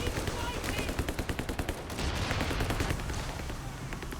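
A machine gun in Company of Heroes 3 fires a rapid, evenly spaced stream of shots, loud and close, followed by a denser wash of battlefield gunfire and explosions.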